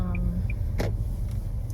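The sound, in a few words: car driving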